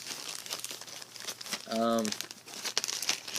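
A plastic bag is handled and crinkled close by in several crackling bursts, with a brief tonal squeak partway through and a person speaking briefly.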